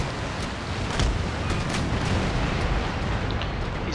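Ship cannons firing in a naval battle in Empire: Total War, a dense continuous rumble of booming broadsides with overlapping explosions and no pauses.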